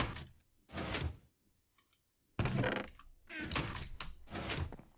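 Blocky wooden doors in a hardcore Minecraft parkour course, opening and closing several times in quick bursts, one pair early and then a run of clustered door sounds close up.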